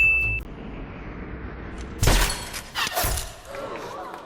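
Sniper rounds strike bulletproof glass in the 2007 Hitman film. Loud, sharp impacts with a cracking, shattering burst repeat about a second apart over a noisy background.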